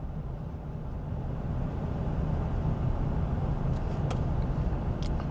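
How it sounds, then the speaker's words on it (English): An air-conditioned Ford F-150 pickup drives through Cimarron Canyon, giving a steady, close engine and road rumble that builds slightly, with a couple of brief faint clicks near the end. "It's a breeze driving through the canyon in an air-conditioned F-150"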